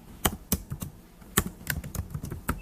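Someone types a formula into an Excel cell on a computer keyboard, with crisp, close keystrokes coming in irregular bursts and short pauses and no voices over them.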